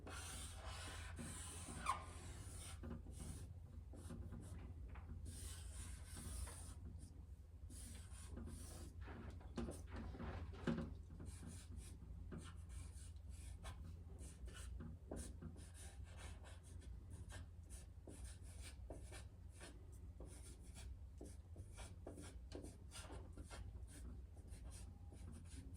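Pencil sketching a rabbit on paper, soft close scratching and rubbing strokes in irregular bursts, quiet and continuous with short pauses between lines.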